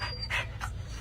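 A big Lab mix dog pants in quick, rough bursts close by, the breaths rising and falling over a steady low background hum.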